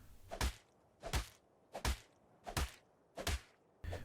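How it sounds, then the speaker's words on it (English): Repeated heavy thwacks as a character bashes through a thatch door frame in Ark: Survival Evolved, six loud, evenly spaced blows about every 0.7 seconds, with no talk. "The will-be victim spies out your building to break into it and starts bashing through that thatch"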